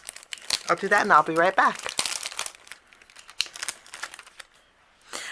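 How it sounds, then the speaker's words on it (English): Paper images are cut out with a coordinating die set, bursts of crinkling, crunching paper and handling clatter sounding close by, while a person talks briefly over the start. "we're going to take the coordinating die set and we're going to cut out all of our images"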